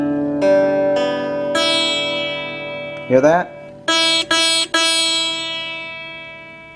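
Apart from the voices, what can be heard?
sitar-like buzz of high E string over PRS wraparound bridge saddle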